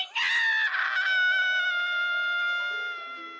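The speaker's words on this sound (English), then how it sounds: "Jerry screams." A cartoonish character named Jerry lets out one long, loud, shrill scream that holds steady and slowly fades and drops in pitch toward the end, with no other sounds around it.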